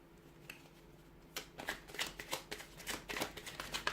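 Tarot cards are shuffled close up in a quiet room: a soft tap, then a run of rapid papery riffles and flicks growing busier, with a card flicking loose amid the shuffle.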